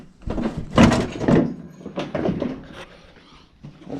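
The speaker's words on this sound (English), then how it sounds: "I'm going to open this door and give us a little bit of wiggle room" The door of a Foxbody Mustang being opened, a few close mechanical clunks and thuds in quick succession, then quieter rustling.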